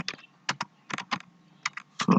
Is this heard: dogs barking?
no